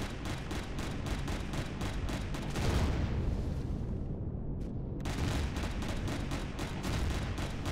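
Rapid, heavy weapon fire in Empyrion Galactic Survival blows out a wall on the lava planet Magmacite: a relentless, evenly spaced stream of loud blasts, broken by a booming, fading impact before the barrage resumes.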